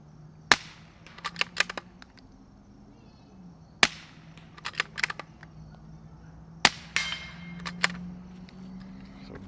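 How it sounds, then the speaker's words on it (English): A suppressed Fox Creek Arms FX-22 Ti pistol fires CCI standard rounds outdoors: three sharp muffled cracks spaced a few seconds apart, each followed by quick metallic clinks and rattles, over a faint steady hum. "Now we got the CCI standards loaded up. Let's see how these sound."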